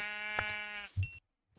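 A Minecraft Bedrock sheep gives one close, wavering bleat lasting most of a second. A short electronic blip and a soft thump follow, and then there is silence.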